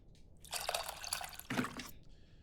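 Tamarind being mixed into a bowl of water in the cooking game Venba makes two soft bursts of sloshing, splashing liquid, each about half a second to a second long, close and fairly quiet.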